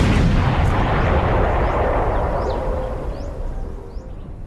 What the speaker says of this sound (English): Another mine joins the many tens of thousands already destroyed.